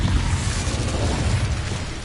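An Incendio fire spell blasts in the video game Hogwarts Legacy with a loud, sustained roar. The dense rumble and crackle hold steady for the whole stretch and fade slightly at the end.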